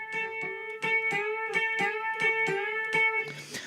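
An electric guitar plays a repeated plucked note, a string bent up a full tone at the twelfth fret, sounding about ten clear, evenly spaced attacks with ringing harmonics before a brief noisy tail, no voices.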